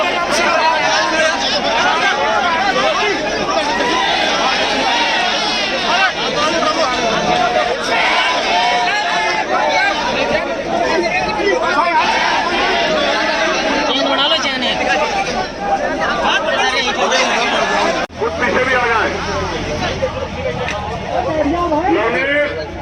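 A large crowd of protesters fills the streets of Lucknow with a dense, continuous babble of many voices, loud and near, with the chatter shifting but never dropping out.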